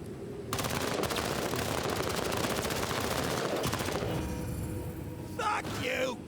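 Suppressed gunfire crackles in rapid bursts, a dense run of quick shots close by, then a pause and a few more reports near the end, with faint voices mixed in.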